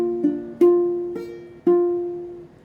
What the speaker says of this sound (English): All right, so all together that B flat sounds like this.